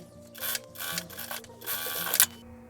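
A sewing machine topstitching along the top edge of a fabric face mask, running in several short mechanical bursts with a steady whirring hum between them, close and alone.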